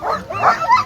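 Sled dogs yip and bark in short overlapping bursts at the start of the Copper Basin 300 sled dog race in Alaska, with a voice talking over the excited team.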